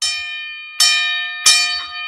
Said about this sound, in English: And I'm going to start using this gong